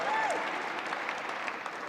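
An audience at a ceremony honouring Canada's Paris 2024 Olympic and Paralympic athletes claps and cheers for the Canadian throwers, a brief burst of applause mixed with a few shouts.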